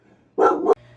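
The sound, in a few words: dog barking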